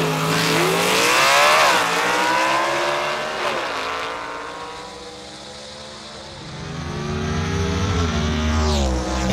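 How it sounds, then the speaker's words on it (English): A gasser-class drag car at a Southeast Gassers race in Aiken, NC, launching off the line: a loud, close engine roar that rises, dips and climbs again through the gears, with a steady, heavy drone filling the whole stretch. "Good shot from behind right here as you watch this car leave the line"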